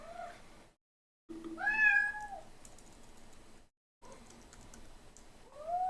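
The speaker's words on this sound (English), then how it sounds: "this is my cat Remus" A pet cat named Remus meows insistently when hungry, several close, drawn-out cries with brief gaps, over light computer keyboard typing.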